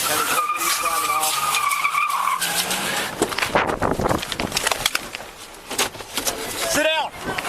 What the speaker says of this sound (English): Driving off.